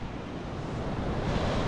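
Ocean waves surge and wash steadily beside the old stone harbour at Gansbaai, South Africa, a continuous close roar of surf mixed with gusty wind noise across the microphone, with no voices.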